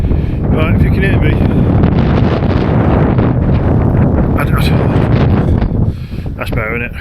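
Strong wind buffeting the microphone on the West Pennine Moors, a loud continuous roar with gusty fluctuations and a few brief higher rustling bursts.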